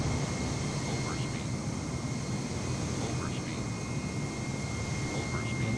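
Simulated Airbus A320neo jet in Air New Zealand livery climbs out in Microsoft Flight Simulator, a steady broadband engine roar holding level throughout with faint higher tones on top.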